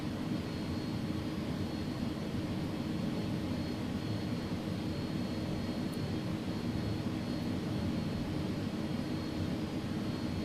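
Steady, dense engine roar from an A300 airliner in the X-Plane 11 flight simulator while it taxis to park, a continuous broadband drone holding even in level throughout with no talk.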